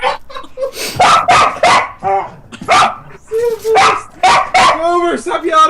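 A dog barks loudly in a quick run of bow-wows mixed with higher yips and whimpers. Voices talk around the barking.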